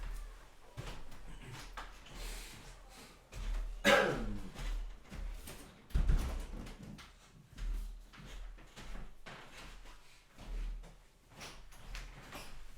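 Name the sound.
door being closed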